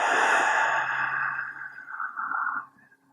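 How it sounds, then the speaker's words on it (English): A full, slow exhale during yoga breathing, close and breathy, trailing off gradually over about two and a half seconds before fading into quiet. "a full breath out"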